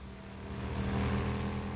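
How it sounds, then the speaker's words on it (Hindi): A motorcycle ridden in the zombie survival game Days Gone, a steady low engine drone that swells slightly louder as it goes, with no talking. "चलो भाई बैठ जाते हैं बाइक पे और चलते हैं सीधा फ्यूल टैंक लेने"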